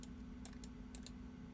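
A few computer keyboard key presses and mouse clicks on an Irix workstation running Houdini 6.5, heard as sparse, quiet, close clicks spaced irregularly over a low steady hum.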